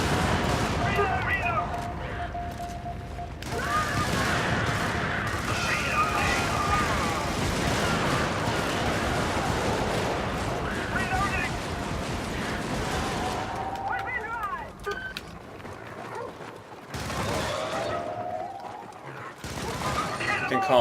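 Dense, continuous video game gunfire and rumbling artillery barrages from a recoilless rifle firing for effect, loud and sustained, with brief pauses near the end and voices talking over the battle.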